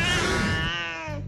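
A cat meows once in a clear, drawn-out, tonal cry that bends downward and trails off, close and alone with no talking.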